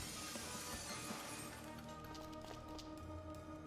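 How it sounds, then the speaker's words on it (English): Glass shatters in the adventure game Dead Synchronicity, a bright crash followed by scattered tinkling shards over a low, steady background hum. "let's cross our fingers that the seat cover absorbs the noise of the breaking glass"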